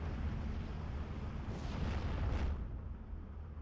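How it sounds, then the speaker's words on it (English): Bombs from an LA5 aircraft explode in Steel Division 2, several deep, rumbling booms in quick succession over a constant low battlefield roar, mid-distance and fairly loud. "It actually managed to drop its bombs."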